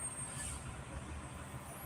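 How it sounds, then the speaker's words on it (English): Fire trucks passing along a residential street, a low steady rumble of heavy engines throughout with a faint high whine above, no talk. "There's fire trucks going down the street."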